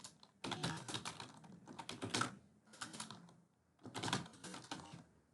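Rapid keystrokes clatter on a computer keyboard as a bot name is typed, coming in several quick bursts separated by short pauses, close and clear with no talking.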